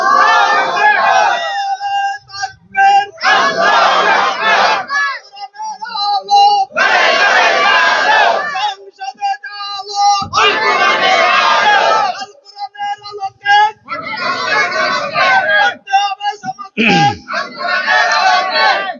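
A large crowd chants a religious slogan in unison with raised hands at an Islamic sermon gathering in Bangladesh, loud bursts of massed voices alternating with short pauses.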